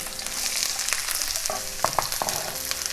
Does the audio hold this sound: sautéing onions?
yes